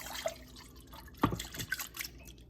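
Water poured from a cup into flour for palak paratha dough, a few soft drips and one brief splashing pour close by, otherwise quiet.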